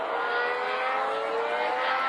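A 2026 McLaren Formula 1 car runs on track, its engine a steady, loud, sustained tone without a break, close and continuous with no voices.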